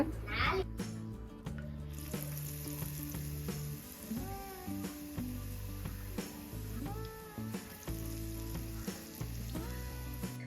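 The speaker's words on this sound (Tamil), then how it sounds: "இந்த பஜ்ஜி மாவு ரொம்ப சொதப்பல் ஆயிடுச்சு" Bajji batter frying in hot oil, with a steady loud sizzle and crackle throughout and occasional clinks and stirring sounds in a home kitchen.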